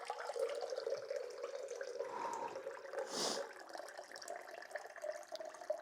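Water runs from a tap for several seconds as a protein drink is mixed, a steady close splashing stream with a brief louder hiss midway and no talking.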